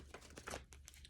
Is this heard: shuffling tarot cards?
yes